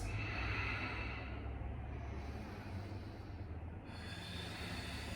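Steady breathing during a knee-focused yoga flow, a continuous soft airy hiss with slow rises and falls, close and fairly quiet, no talking.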